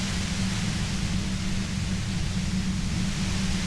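Steady hiss of white noise as an in-game effect in Disco Elysium: The Final Cut, a dense, unbroken static wash with a heavy low rumble, loud and constant throughout with no voices.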